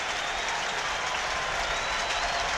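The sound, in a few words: crowd giving a standing ovation at a baseball game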